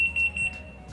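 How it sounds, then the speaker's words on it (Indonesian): A Modena BO 4630 oven timer alarm sounds with a rapid run of short, high, shrill electronic beeps, clear and close, then stops. "setelah berakhir, alarm bunyi dan lampu mati."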